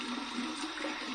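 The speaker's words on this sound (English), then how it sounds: "I'm going to flip it to the cold side here, and we're going to do my cold water rinse" Cold tap water runs steadily into a bathroom sink for a rinse after a shave, a constant close rushing hiss with no voices.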